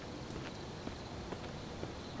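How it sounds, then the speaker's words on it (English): Footsteps of a player character walking through the survival game VEIN, a steady series of soft, evenly spaced treads over a constant background hum, fairly quiet and with no voices. "Our footsteps are pretty loud."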